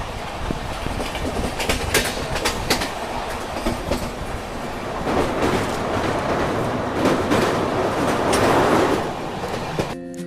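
The Avadh Assam Express rolls along the rails through West Bengal toward Bihar, a loud continuous rumble with rhythmic clickety-clack of wheels over track joints and rising bursts of rattling.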